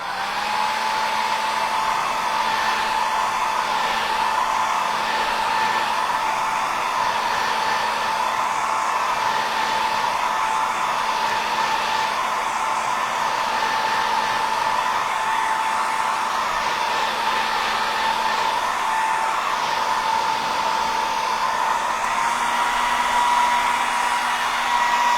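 Hair dryer blowing steadily to dry a whitetail buck painting, a loud, continuous close whir with a constant tone and no talk.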